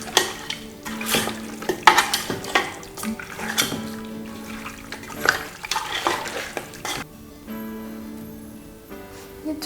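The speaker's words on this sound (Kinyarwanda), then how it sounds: "noneho niturangiza tubivange byose." Ingredients for oven-baked chicken being stirred and mixed together in a bowl, with repeated scraping and clinking of a utensil against the dish at close range, no talking.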